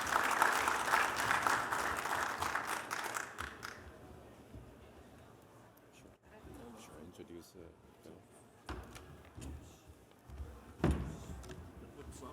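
An audience at a National Academy of Inventors fellows panel breaks into loud, sustained clapping that gradually fades, followed by scattered stage noises and a voice speaking.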